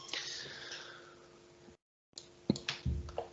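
Mouse clicks open photos in software, coming as a few sharp, close clicks in quick succession after a short silent gap.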